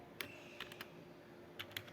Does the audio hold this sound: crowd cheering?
no